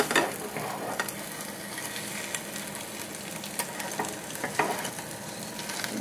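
An omelet sizzles steadily in a hot frying pan, with a few sharp scraping and clattering spikes as it is flipped halfway over.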